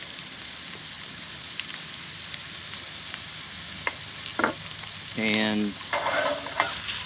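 Potatoes fry in a pan for a tortilla de patatas, giving a steady, close sizzle with a few crackles and stirring sounds. A short spoken word comes near the end.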